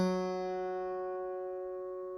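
A single guitar string, the G string tuned down to G flat in an alternate tuning, is plucked and rings with a bright attack, then sustains and slowly fades, heard alone.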